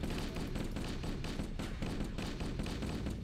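Crewmen firing their weapons in the Halo CE campaign, a dense, continuous rattle of repeated shots with steady rhythmic bursts and a low thumping underneath.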